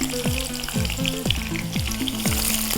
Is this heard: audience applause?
no